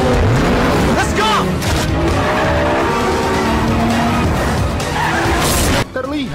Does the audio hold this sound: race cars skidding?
yes